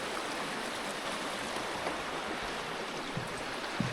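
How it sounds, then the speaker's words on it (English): Johns Brook, a sizable mountain stream in the Adirondack High Peaks, rushes right beside the Johns Brook Lodge, producing a steady, full broadband roar of flowing water close by, with no voices. "This is a pretty sizable stream, isn't it?"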